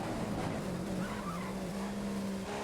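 Formula 1 car engine in the racing video game F1 2015, a loud continuous high-revving whine rising through gears down the straight toward turn one, steady and alone.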